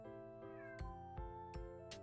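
A pet cat meows softly several times in a row, faint and nearby with a steady tonal hum in the background, and no one speaks.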